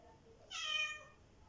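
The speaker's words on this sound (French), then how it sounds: "Je vois que mon chat participe activement à cette détente." A house cat lets out a single drawn-out meow, close by and soft, rising and fading over about half a second in an otherwise quiet room.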